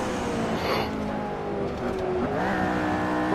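A McLaren launches and accelerates hard on a race track, engine note climbing through the gears with a brief dip at a shift, loud and close throughout.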